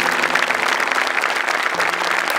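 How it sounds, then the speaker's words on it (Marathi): Loud, dense applause from an audience at a comedy stage show, steady and continuous throughout with a broad clapping wash and no pauses. "जोरदार टाळ्या."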